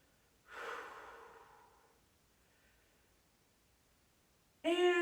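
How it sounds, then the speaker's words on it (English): A single deep breath drawn close to the mic during a bodyweight and towel stretching workout. It is soft and airy and fades out, then a short, louder burst of voice comes in at the very end. "Nice deep breathing here"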